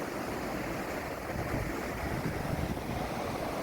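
Water rushes in a steady, broad roar across a grand open landscape heading toward the sea, mixed with wind buffeting the microphone, continuous and fairly loud with no talking.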